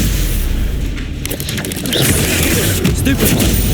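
Stupefy spell being cast in the Hogwarts Legacy video game, a booming, crackling magical blast with rumbling impacts that fills the scene loudly and continuously, layered over game sound effects.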